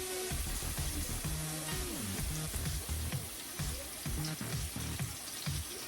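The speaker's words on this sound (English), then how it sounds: "Now we're going to put in some olive oil." Olive oil poured into a pan over low heat, a steady close gurgling pour with bubbling, warbling tones over a continuous soft sizzling hiss.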